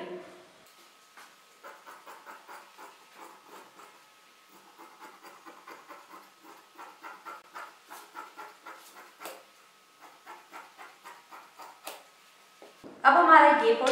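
Scissors cut the back armhole of kurti fabric, a close, steady run of short, crisp snips in an even rhythm, ending with a louder rustle of cloth.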